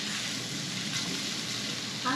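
Food with pepper flakes sizzling steadily in a hot pan at a fairly even level, with a brief brighter stir or clatter near the end.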